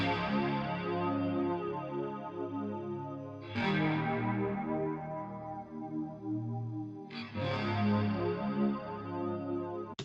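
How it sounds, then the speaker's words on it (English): Sustained ambient electric guitar chords ring out with overdrive and a wide, sweeping phasing effect, a dense wash of sound with fresh strums every few seconds, thick and loud throughout. "Here we have this guitar, the ambient guitar overdrive wide."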